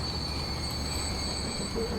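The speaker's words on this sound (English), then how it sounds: "This is the copper train coming out." Copper-hauling freight train in Transport Fever 2 rolling steadily past in a continuous rumble, with sustained metallic wheel hiss and a brief faint squeal near the end, loud and close, with no talk.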